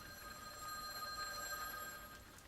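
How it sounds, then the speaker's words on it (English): A telephone rings on and on in a quiet room, a faint, steady electronic trill with nothing else over it. "The phone's incessant ringing continued."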